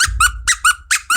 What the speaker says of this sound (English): Fucking squeaky toy.